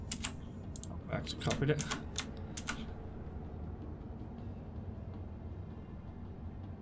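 Quick keystrokes on a computer keyboard while entering items into an EVE Online price appraisal tool, a burst of clicks over about two seconds, close and clear, with someone briefly talking.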